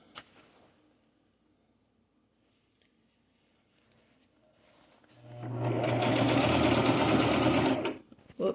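A new sewing machine starts stitching after a quiet stretch, running fast and loud for about three seconds with a steady whirring buzz before stopping abruptly.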